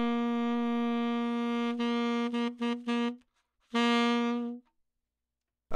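A tenor saxophone holds one steady, rich concert B flat, then breaks into several short choppy bursts, pauses, and sounds the note once more before stopping.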